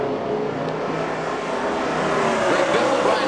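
A pack of NASCAR Sprint Cup stock cars roars at full throttle on the restart at Michigan, a dense, loud, continuous engine drone that swells slightly as the field accelerates.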